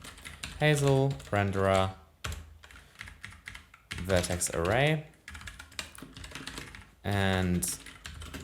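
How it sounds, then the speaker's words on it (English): Someone types code into a computer keyboard, a steady patter of key clicks running under someone talking in short bursts. "my typing right now is not that great"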